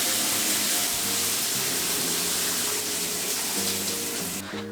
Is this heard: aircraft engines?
no